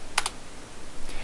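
Two quick keystrokes on a computer keyboard while a password is entered, close and crisp, followed by quiet room tone and a faint third tap near the end.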